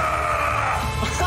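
A Geo boss made of elemental crystal in a Genshin Impact trailer lets out a brief, harsh, sustained scream with a rough, strained tone, loud and close.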